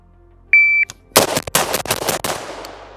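A Bravo Company AR-15 rifle fires a quick string of loud, sharp shots outdoors, about half a dozen cracks in uneven rhythm, each with a ringing tail, preceded by a short electronic beep.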